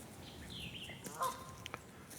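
A goose honks a few times at a distance along an old train track trail, with faint, brief calls over a low, steady outdoor background and no talking.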